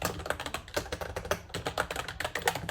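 Typing code on a computer keyboard, rapid, uneven clicks and key taps in quick bursts, close and clear with no talk.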